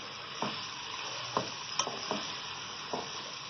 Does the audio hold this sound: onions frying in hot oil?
yes